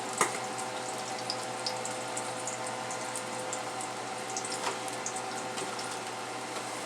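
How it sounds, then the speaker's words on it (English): Chopped vegetables hitting a pan of hot olive oil, a steady close sizzle with a few soft crackles and pops, no talking. "we are going to throw our chopped veggies in"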